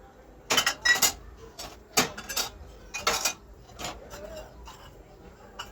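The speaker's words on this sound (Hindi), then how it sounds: "बर्तन धुले थे सूख गए थे तो सारे मैं लगा रही हूँ" Dried steel dishes, utensils and a jug being put away in a home kitchen, with sharp clinks and clatters at irregular intervals, close by and moderately loud.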